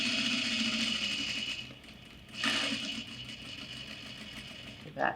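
A sewing machine stitches a bag seam, a steady fast mechanical whir that runs, slows and pauses, then resumes under a speaking voice, ending with a short louder clunk.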